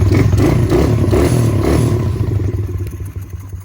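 Kick-starting a warm 140 dirt bike: a loud, clattering, pulsing engine burst that rises quickly, then fades and sputters toward the end.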